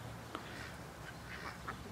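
A pair of paradise shelducks calling, a few faint, short honking quacks spaced irregularly against a quiet background.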